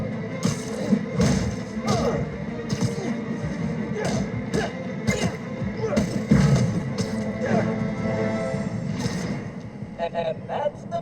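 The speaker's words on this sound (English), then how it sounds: "Initiate melee attack." Melee attack impacts in an arcade video game land as repeated dull thuds and knocks amid dense game sound and spoken dialogue.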